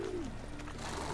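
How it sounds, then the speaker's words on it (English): Pigeons in the video game The Witcher 3 give a soft low cooing call, a short falling coo over a steady ambient town background, fairly faint and with no voices. "These really are some brave pigeons."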